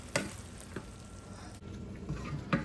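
Onions and vegetables frying in a pan on a stove for Jamaican ackee and saltfish, a steady close sizzle with occasional clatters of stirring.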